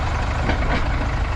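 A pick-up truck driving along, steady low engine rumble and road noise from inside the cab, continuous and fairly loud for a brief moment.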